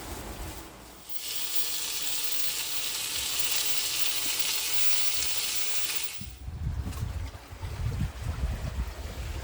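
Stir-fry with sesame oil sizzles steadily in a pan aboard a sailboat, a loud continuous hiss lasting several seconds and cut off abruptly, followed by low rumbling boat and water noise.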